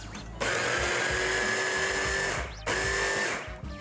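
An electric chopper whirring as it minces curry leaves for vegan fish cutlets, two loud steady bursts of motor buzz with a brief stop between them, close and alone.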